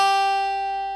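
One sustained guitar note on the low E string at the third fret, steady and clear, decaying gently over a second with nothing else heard.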